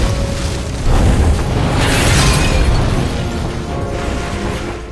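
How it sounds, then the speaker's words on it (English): A bomb explosion in The Dark Knight bursts with a heavy boom, followed by a sustained roaring rumble and crackling debris that slowly fade over several seconds. "The Joker makes a call, which activates a bomb that was inside a prisoner of that station."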